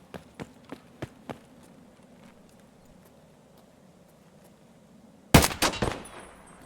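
Sniper scavs fire on the player in Escape from Tarkov: four sharp, evenly spaced distant cracks early on, then after a quiet stretch a much louder close shot with a rattling echo tail.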